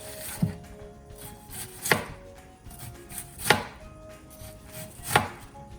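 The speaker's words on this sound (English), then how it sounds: "This is the best way to chop onion." A knife chops onion on a board in slow, evenly spaced strokes, each one a crisp thud.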